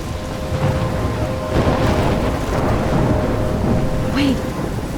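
Storm ambience in the video game Life is Strange: steady wind and rain wash fills the scene, with a soft thunder rumble rolling through midway, a faint high whistle near the end, and no distinct voices.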